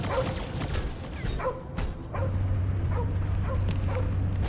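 Cosmo the dog in the Guardians of the Galaxy video game gives a run of yipping barks and whimpers, followed by a steady low droning hum from the game underneath.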